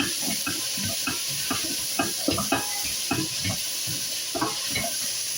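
Potatoes, pumpkin and gourd fry in a pan under a steady soft sizzle, with repeated scraping and knocking of a utensil as the vegetables are stirred, close by.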